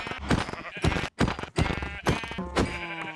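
Minecraft sheep bleating repeatedly as it is killed in a video game, several loud wavering bleats in quick succession with brief gaps between them.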